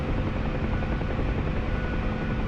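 A Huey helicopter in the DCS flight simulator, its rotor and turbine drone steady and loud, a continuous dense whir with no breaks and nobody talking.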